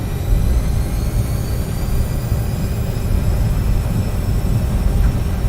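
Bombardier CRJ 1000 jet engines at takeoff power in X-Plane 12, a loud, steady, dense roar with a faint rising whine, continuous and close throughout.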